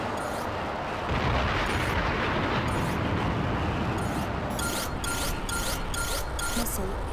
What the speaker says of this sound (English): Good launch, flight lead.